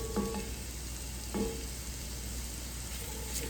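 Vegetables sizzling and browning in a pot for braised oxtails, a steady soft frying hiss with a couple of faint stirring knocks and no talking.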